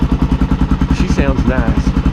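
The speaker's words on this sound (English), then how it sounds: "turn on the bike and warm it up to running temperature" Suzuki DR-Z400 motorcycle engine idling while warming up, a loud, close, rhythmic single-cylinder thumping with a brief voice speaking over it.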